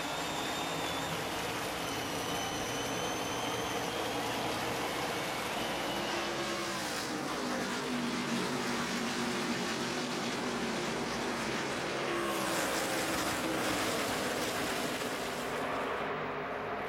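NASCAR Nationwide Series race cars roaring off the green flag at Nashville in 2010, a dense, steady wash of engine noise with a rising surge midway, loud and continuous with no talk.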